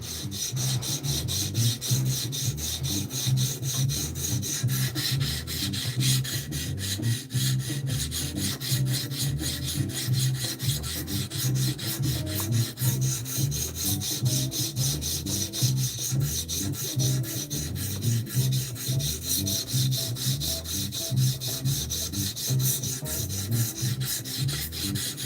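A knife is drawn steadily across the stone of a TS Prof sharpener to remove a bevel, giving continuous close rasping strokes in an even rhythm throughout, with no talk.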